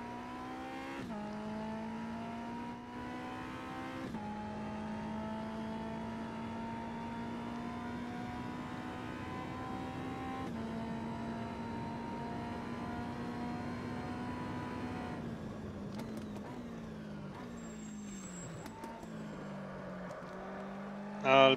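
Race car engine in the Automobilista game at the Oschersleben circuit, a sustained loud harmonic drone rising through gears, dipping as the throttle lifts and shifts near 15 seconds, with brief tire noise at the end.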